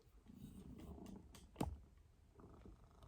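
Female cat lying on a person's leg, purring softly and close in a low continuous rumble, with a brief sharper rustle partway through.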